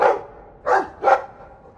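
A dog barking in the Dragon Age II video game, three short clear barks spaced about half a second apart, moderately loud and close with no talk.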